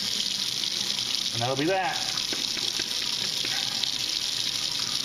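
Tap water gushes steadily into a sink while a plastic container is rinsed out in a home kitchen, a constant hiss under brief talk.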